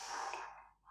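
A single soft, breathy inhale during a chair yoga session, close and quiet, lasting under a second and fading out at the end.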